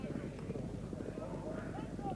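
Racehorses galloping in a steeplechase at Newbury, a steady rumble of hoofbeats heard from a distance beneath continuous race commentary.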